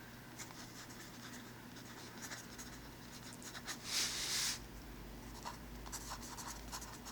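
Pen writing a name on a paper medical intake form, with a steady close scratching that swells into a louder, denser burst partway through, with no talking.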